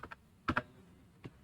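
A handful of quiet key presses on a computer keyboard while typing code, a couple of single taps, a quick double tap, then one more, sparse and close.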